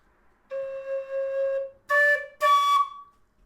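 A tin whistle sounds a sustained second-octave C sharp with no holes covered, played as one long tone followed by two shorter, brighter notes, clear and close with no talk.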